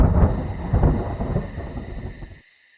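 A loud, deep rolling rumble of thunder, close and full, building in a few surges before cutting off abruptly into near silence, with no voices.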